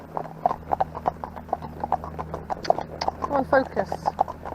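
Horse hooves clip-clop in a steady walking rhythm, close and clear, while the horse is ridden out on a hack along a road, with the rider talking over the footfalls.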